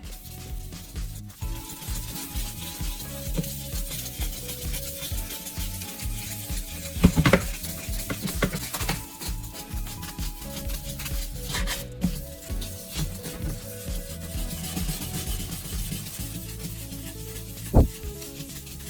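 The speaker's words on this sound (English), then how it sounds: "Using 800 grit sandpaper, spray water onto the surface and begin sanding slowly." A car headlight lens is wet-sanded with 800 grit sandpaper and sprayed water. Soft, continuous rubbing strokes run throughout at low volume, with a couple of sharper scrapes and a faint tonal backdrop.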